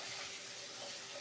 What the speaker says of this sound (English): Now I'm going to put some water in the bowl, in the bucket,